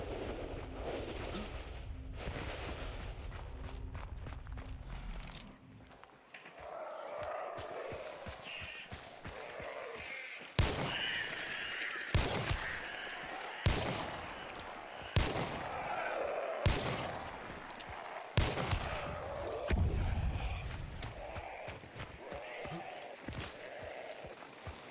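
Gunfire in the video game Hunt: Showdown, a run of sharp, loud shots spaced unevenly over roughly fifteen seconds, each cracking out above a low rumbling game ambience, with occasional talk beneath.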